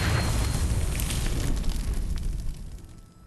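A Confringo fire spell bursts in Hogwarts Legacy, a loud, rumbling explosion with crackling debris that gradually fades over a few seconds, with no talking.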